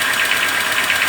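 Renault Sandero 1.6 8v K7M engine running with a knock, a loud steady mechanical clatter with a fast repeating pulse, heard close up with no voices.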